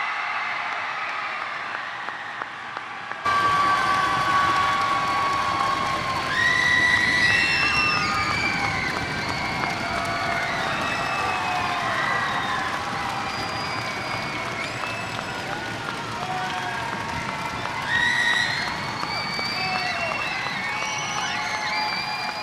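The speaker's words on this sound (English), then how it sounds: "provide the loudest cheer of appreciation you can muster up right now" A school crowd at a Veterans Day assembly in Wimberley cheers for veterans, loud sustained applause with shouts, whoops and children's high screams filling the gym.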